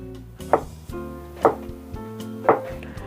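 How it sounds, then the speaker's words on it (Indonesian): Knife chopping tempeh into small pieces on a cutting board: three sharp, distinct chops about a second apart, close and clear over a quiet kitchen background with a faint tonal hum. "Saya potong-potong semuanya sampai tempenya ini habis ya."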